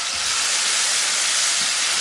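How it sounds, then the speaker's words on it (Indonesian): Ground spice paste sautés in leftover chili-frying oil, giving a loud, continuous broadband sizzling hiss that holds steady throughout with no talking. "Ini kita tumis pakai minyak bekas goreng cabai tadi ya."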